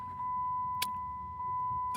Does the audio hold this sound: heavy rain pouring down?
no